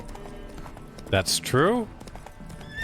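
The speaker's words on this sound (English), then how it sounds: "Spooking my horse." Roach the horse in The Witcher 3 clip-clops with steady hoofbeats, and a short neigh-like cry rises midway, heard under a man's speech.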